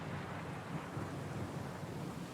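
A storm in the game Pillars of Eternity II: Deadfire, a continuous low rumble of thunder mixed with wind and rain, steady and moderately quiet throughout.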